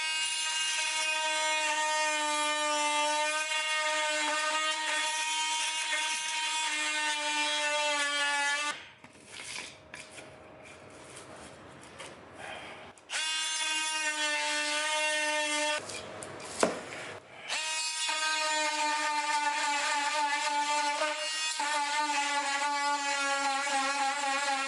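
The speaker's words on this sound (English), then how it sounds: "we're going to ride that blade on top of the floor. It's going to be a guide the whole way there, and we're going to cut it perfect" An oscillating saw, its blade riding flat on the floor, cuts along the bottom of a wooden door jamb with a steady high buzzing whine that stops twice briefly before resuming.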